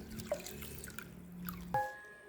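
Water poured over uncooked rice in a bowl, heard as a few splashy drips and a brief trickle, then a sharp clink of the vessel near the end; close and fairly quiet.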